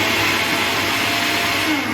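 A blender blitzing steak marinade ingredients at high speed, a loud steady motor whir with dense broadband roar running unbroken throughout, no voices.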